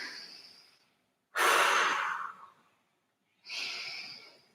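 Slow, deep breaths during a pilates hold, close and clear: a long exhale fading out, a pause, a strong breath in and out, then another exhale, with no talk.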